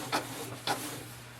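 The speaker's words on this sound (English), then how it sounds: "you simply have to press the start button and it will start the copy" A Canon Pixma TS5060 printer running a copy gives two brief, quiet mechanical whirs about half a second apart over a low steady hum.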